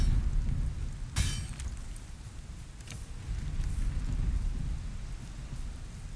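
Steady rain pours during a storm in the video game Valheim, with a sharp crack of thunder early on and fainter rumbles later, all continuous and fairly close.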